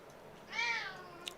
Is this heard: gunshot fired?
no